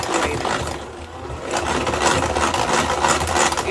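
An electric mixer beats eggs into cake batter for a cinnamon apple coffee cake, a loud continuous motor whir with a rhythmic churning texture, steady throughout with a brief dip early on.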